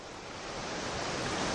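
Waves wash steadily over the sandy shore of a delta, a continuous broad rushing surf that swells slightly louder toward the end, with no voices.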